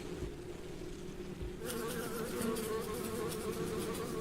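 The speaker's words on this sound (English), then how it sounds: "It's a mad bee." An angry bee in The Adventure of Bertram Fiddle video game buzzes steadily and loudly, growing brighter partway through, over a constant low game background.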